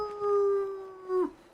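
A timberwolf in The Long Dark video game gives a single drawn-out howl, a steady tone that swells, holds and then drops off sharply at the end, heard alone against quiet wind.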